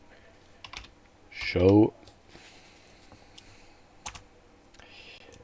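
Rapid computer keyboard typing while writing a Ren'Py script, a dense burst of clicking keys in the middle with a few isolated key taps afterward, close by, with a brief spoken word alongside.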